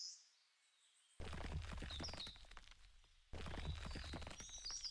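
Birds chirp faintly in the base defense deckbuilder game Aurora Defense, thin high calls drifting over two loud low-rumbling ambient swells that cut in and out abruptly.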